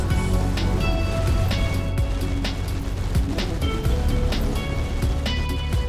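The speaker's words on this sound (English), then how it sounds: "I think now it's just time to watch some waves" Steady rolling surf and wash of tsunami waves in the video game Mindustry, a loud continuous roar with periodic crashing swells and faint mechanical tones throughout, no voices.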